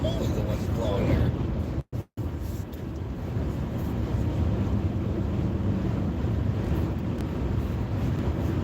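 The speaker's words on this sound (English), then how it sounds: "Holy moly, the wind's blowing here." Strong gusty wind buffets the microphone in a loud, rumbling roar that rarely lets up, broken only by a couple of brief dropouts, while a voice sits faintly underneath.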